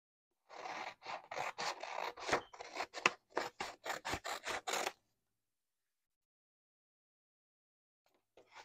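Scissors cutting out paper pieces for DIY party favor coloring packs, a rapid series of crisp snips and rustles for several seconds, close and alone, then silence and a faint rustle at the end.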